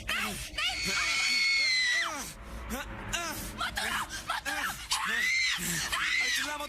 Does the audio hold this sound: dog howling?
no